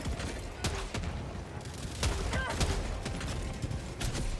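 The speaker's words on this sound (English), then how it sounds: "God, I love the grenade launcher again." A grenade launcher fires in the Helldivers 2 video game: a run of sharp, punchy blasts at uneven intervals over a steady bed of battle noise and mechanical clatter.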